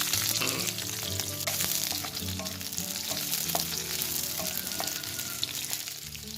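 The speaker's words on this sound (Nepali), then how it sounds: "यसलाई चाहिँ म अब फ्राई गर्दैछु।" Turkey meat frying in mustard oil in a Nepali-style spicy turkey fry, a loud, constant crackling sizzle with scattered pops and occasional stirring scrapes, close by and with no talking.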